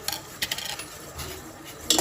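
Spoon clinks against a metal tea pot while tea leaves are added, a few light, bright taps and scrapes near and fairly quiet, with a sharper clink at the end.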